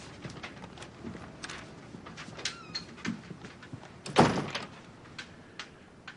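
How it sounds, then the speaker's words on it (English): A door is pushed shut in an office, landing as a single solid thunk midway through amid soft rustles and light handling noises, fairly close and with no talk. "Shut the door."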